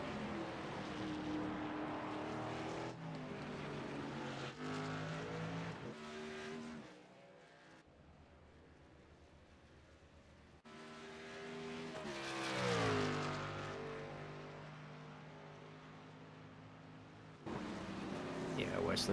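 Racing trucks at Road America roar past on a road course, engines rising and falling through gear changes with a brief tire squeal, over continuous race commentary.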